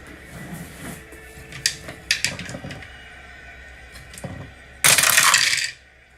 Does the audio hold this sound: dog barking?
no